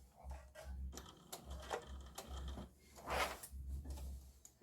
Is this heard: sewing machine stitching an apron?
yes